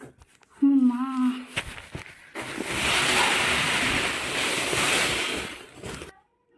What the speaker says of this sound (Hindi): अब इसमें डालेंगे चावल।